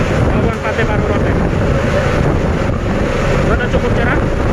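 Ferry pulling away from Bolok harbour bound for Pantai Baru port on Rote, with a loud, steady rumble of engine and rushing water, heavy wind buffeting the microphone throughout.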